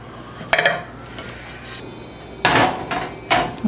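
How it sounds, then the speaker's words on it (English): A serving dish set on a bundt cake pan is flipped upside down, giving a sharp clank, then a scrape and two more loud clattering knocks of metal and dish on the counter. "put it on top of your bundt cake pan, and then flip it upside down"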